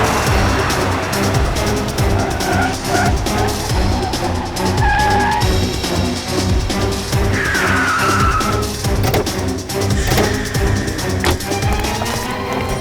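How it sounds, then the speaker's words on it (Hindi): Car chase on the road with one car overtaking another, engines roaring loudly while tires squeal and skid in sharp bursts over a busy, dramatic mix. "मैं इस कार को ओवरटेक करता हूँ, नीचे उतरते ही घेर लेंगे"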